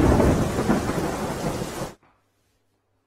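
Heavy rain pours down in Vadodara as a dense, loud wash of falling water, which cuts off abruptly partway through, leaving near silence.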